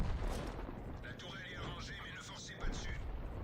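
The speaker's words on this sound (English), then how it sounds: "brings his gun round, and bang, he shoots me in the rear for 193 hit points" A tank cannon fires in the video game World of Tanks, with a loud booming blast at the start and another thump later against continuous battle rumble, and voices present in the mix.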